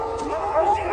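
Dogs bark and yelp in a short burst from a film scene about slavery, with a whimpering, howling edge, moderately loud and mixed with other sound.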